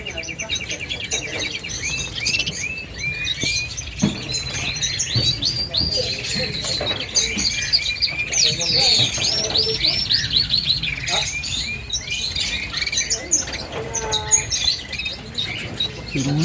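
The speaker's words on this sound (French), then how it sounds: "Ça, c'est des petits canaris." Small canaries and Bengalese finches chirp and trill busily and continuously up close, with overlapping high tweets and occasional squawks.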